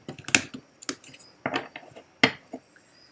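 Cards are shuffled by hand at an evening prayer gathering, making a few crisp, separate snaps and light clicks in an irregular rhythm, close by and fairly quiet, with no talking.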